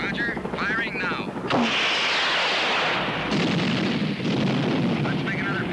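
Helicopter rockets fire in a film scene, with bursts of whooshing blasts and rumbling roar over helicopter noise in a snowy mountain setting, while voices speak over radio between shots.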